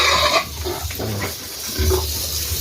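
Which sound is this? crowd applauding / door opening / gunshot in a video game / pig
pig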